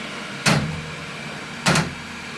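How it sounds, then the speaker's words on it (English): Two firm thuds about a second apart as the doors of a Dremel 3D45 3D printer are shut, each a short broadband knock against a steady low hum from the machine. "So I'll close the door."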